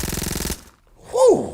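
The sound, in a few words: gunshot sound effects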